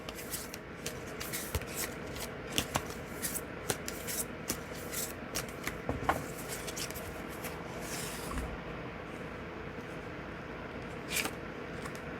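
Tarot cards being shuffled and picked by hand, close soft rubbing and riffling with scattered crisp flicks and taps, steady and quiet with no talk.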